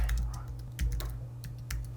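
Typing on a computer keyboard into a ChatGPT chat box, a quick run of close clicking keystrokes in an uneven rhythm over a low steady hum, with no talk over it.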